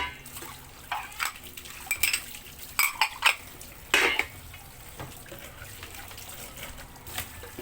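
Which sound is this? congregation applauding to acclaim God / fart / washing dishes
washing dishes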